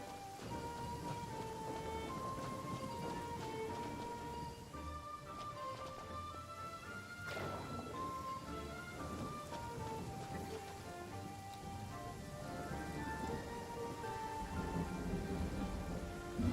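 A Genshin Impact thunderstorm pours down steadily, dense rain hissing on surfaces with low rumbles of thunder rolling beneath and soft melodic game music drifting through, constant and fairly loud throughout, with no one speaking.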